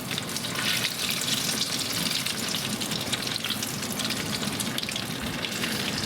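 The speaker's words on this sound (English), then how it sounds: "these cook really fast. 3 to 4 minutes in the oil" Spanish croquettes deep-frying in hot oil, a dense, steady crackling sizzle that stays loud and close the whole time, with no voices.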